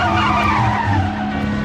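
An anime school bus skids as its brakes fail, a loud continuous tire squeal and engine roar sustained over a steady low hum, with no voices.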